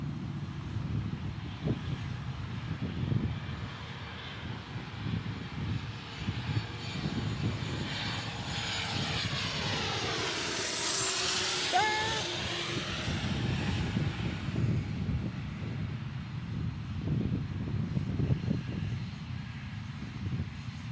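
An Embraer Phenom jet from Richmond passes at Dallas Love Field, its engine roar swelling to a loud peak overhead and then fading under steady low rumble and wind.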